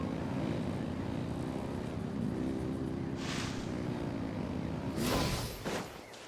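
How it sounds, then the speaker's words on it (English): Engines revving in Genshin Impact: a steady, loud droning motor roar holds throughout, with a brief whoosh near the middle and a sharp burst and clatter near the end as the drone fades slightly. "Rev the engines!"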